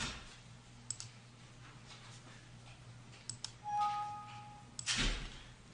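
Mouse clicks in Mastercam while posting a finished lathe part, a few sharp isolated clicks scattered over a quiet room background with faint tonal beeps.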